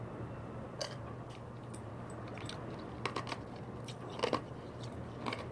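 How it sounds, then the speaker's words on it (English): Someone chews ice, mouth open: a few sharp crunches scattered over several seconds, close and moderately loud, between quieter moments of soft chewing, with no speech. "I'm sorry for chewing with my mouth open."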